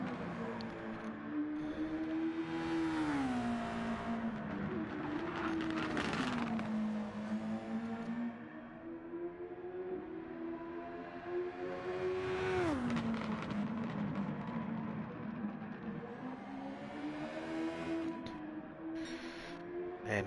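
A single-seater race car at Watkins Glen in a racing video game howls near flat out, engine pitch rising and dipping through gear changes and corners, loud and continuous for the whole stretch.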